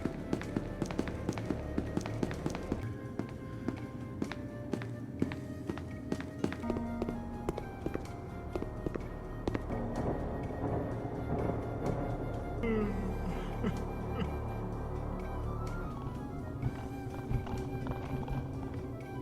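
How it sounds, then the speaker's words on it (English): Footsteps of SCP creatures in the video game SCP Secret Lab, a long series of steady, rhythmic thudding steps over a dense droning game ambience, shifting in character partway through. "every SCP has different sounding footsteps that I'm going to play right now"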